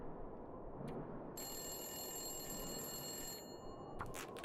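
A telephone bell rings continuously in the survival video game The Long Dark, a bright sustained electronic trill over a constant wind-like background rumble, ending with a couple of short clicks.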